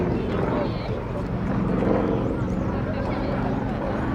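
A display aircraft in flight at the Little Gransden airshow, UK, a loud continuous engine roar that holds steady throughout, with a commentator talking over it.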